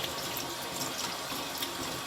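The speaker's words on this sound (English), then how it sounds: "what we need to do is to wash out all of the liquid from this in cold water" Homemade butter being washed under cold running water, with a steady close hiss of water from a tap splashing continuously and no voices.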